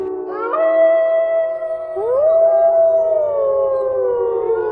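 A cartoon parrot mimics a female fox's call: a long, wavering howl-like cry that rises, dips, then rises again and slowly falls, loud and close with no talking.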